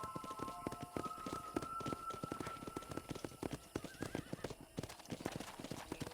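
Horse hooves clip-clop steadily and close in Red Dead Redemption, with a whinny partway through, the galloping rhythm running throughout almost without talk.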